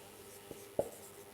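A marker or chalk writing on a board, with two brief tapping strokes close by in a quiet room and no talking.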